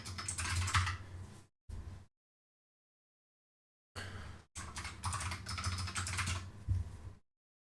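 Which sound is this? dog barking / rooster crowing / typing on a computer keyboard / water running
typing on a computer keyboard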